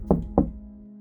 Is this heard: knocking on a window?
yes